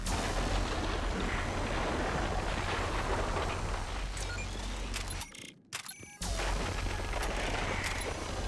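Gunfire fired from the hip in the video game Mass Effect, dense loud noisy blasts over a rumbling battle bed, broken by a short near-silent gap before resuming with sharp cracks.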